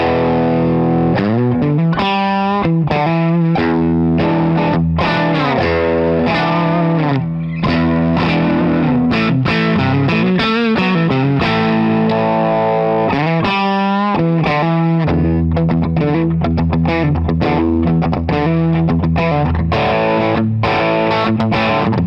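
An affordable Jackson electric guitar played loud through heavy distortion, with sustained chords and rapid picked notes running continuously for over twenty seconds, no voices.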